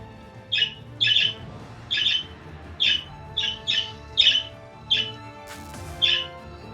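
Repeated bird squawks in the fantasy action game Wizard of Legend, about nine sharp, evenly spaced calls over a low steady game-music bed, loud and close.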